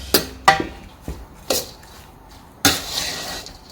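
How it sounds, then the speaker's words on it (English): Cabbage salad being tossed by hand in a bowl with apple cider vinegar and olive oil, giving a few sharp clatters and wet knocks against the bowl, spaced irregularly, close and moderately loud with no talking. "And you thoroughly mix it."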